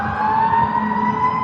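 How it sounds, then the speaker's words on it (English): A fire truck siren wails steadily nearby, a sustained tone holding without pause over a low rumble of traffic, with an ambulance also mentioned as present on the street. "Fire truck and an ambulance."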